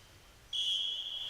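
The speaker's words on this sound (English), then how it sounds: "Tony Christensen just readies himself to blow the whistle to get proceedings off underway here in this playoff game" A referee's whistle starts a playoff football match between Austria and Switzerland, one sharp sustained blast rising out of a quiet crowd background.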